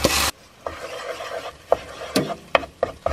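Red curry paste scraped and stirred around a frying pan, a loud opening burst followed by short scraping rubs with a soft sizzle beneath, close and without talk.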